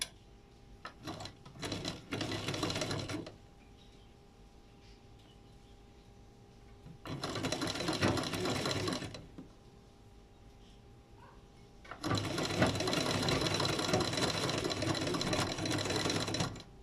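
An electric sewing machine stitches fabric in three bursts of rapid, even mechanical rattling, each lasting a couple of seconds, separated by quiet pauses with faint handling sounds.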